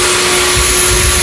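Vacuum suction roaring steadily through a plastic hay filter hose with four molded plastic ribs, a loud continuous rushing hiss with a faint tonal whine and a low rumble, running alone.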